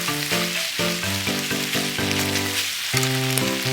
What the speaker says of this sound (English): add Japanese sake, soy sauce, dashi powder, and stir-fry everything together